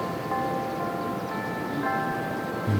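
Chimes ring out across a golf course during a women's championship, sustained tonal bell notes struck a few times over a steady outdoor background hum.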